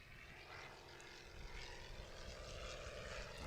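A small propeller airplane departs the airport at a mountain STOL competition, its engine a steady droning roar at moderate distance that holds even throughout, heard alone.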